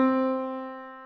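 One C note just below middle C, a clean keyboard tone with a bright, steady fundamental that decays gently over about a second, heard alone and close.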